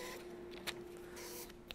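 An Epson ColorWorks C6000 inkjet colour label printer runs at speed, producing a steady mechanical whir with a constant tone, faint clicks and a brief swish as a label feeds. It is quiet and heard alone.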